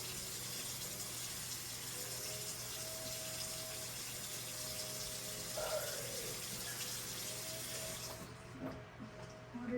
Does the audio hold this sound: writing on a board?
no